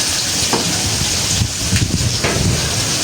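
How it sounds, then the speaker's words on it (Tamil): Onions sautéing in a pan with prawns nearby, a steady dense sizzle close up that runs without a break, with faint stirring scrapes and no voices. "வெங்காயம் வதங்கி கொண்டு இருக்கட்டும்"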